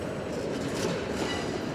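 A train moving on rail tracks, a steady, close rumble with faint clickety-clack of wheels and a brief squeal, continuous and without voices.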